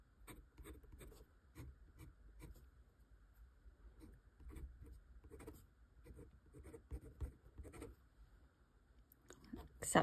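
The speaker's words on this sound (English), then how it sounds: "The nib has some feedback. It's got a good scratch sound to it, which I really like." Steel nib of a Majohn M2 fountain pen scratching across paper during writing, a string of short, dry, raspy strokes with small pauses between them, close and fairly quiet, ending in a louder scrape.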